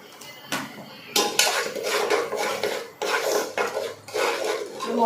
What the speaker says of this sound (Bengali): মশলার মধ্যে ভালোভাবে নুন হলুদটা মিশিয়ে নেব